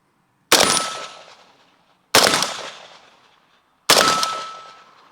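Three loud, evenly spaced AK47 rifle shots, each a sharp crack followed by a long echoing decay, fired one at a time with pauses of over a second between them.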